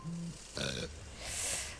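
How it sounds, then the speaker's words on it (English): A patient burps in the hospital-management video game Two Point Hospital: a short, low, throaty eruption with a gurgling edge, followed by a brief fizzy hiss, all within about two seconds. "There's nothing like a burp."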